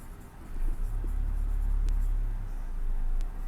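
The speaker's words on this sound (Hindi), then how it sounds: "चलिए यहाँ पे लिखता हूं" Marker or chalk scratching across a classroom board during a grammar lesson, a steady low scraping stroke running for about two seconds with faint squeaks, close and fairly quiet, no talking.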